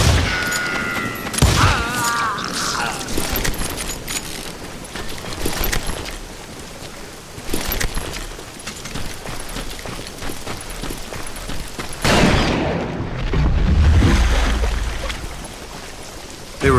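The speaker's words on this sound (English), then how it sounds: "I'm tired of being shot at!" Repeated gunfire from Call of Juarez: Gunslinger, a Western shooter, with dense bursts and loud booming shots through most of the stretch, heaviest near the end, with no talking.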